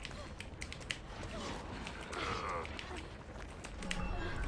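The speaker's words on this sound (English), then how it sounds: "Now let's go quiet and listen to his stomping." Springtrap, the killer in Dead by Daylight, stomps along in heavy, mechanical footfalls, a loose run of thuds and creaks over a steady, noisy game ambience.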